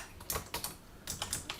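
Quick bursts of keystrokes on a computer keyboard come in two clustered flurries with a short pause between them, close and moderately quiet, with no talking.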